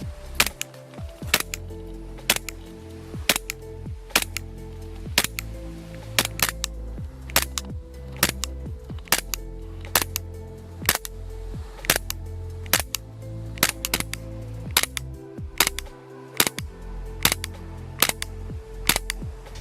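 A Poseidon Orion gas blowback airsoft pistol fires a long series of sharp, loud cracks, each shot distinct, roughly one to two per second with a few quick pairs, close and with no talking.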